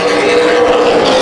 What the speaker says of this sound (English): I thought I heard an engine drop some cylinders